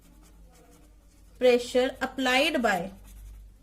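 Chalk or marker scratches across a classroom board during a chemistry lecture, a soft steady scraping that runs under a voice speaking Hindi.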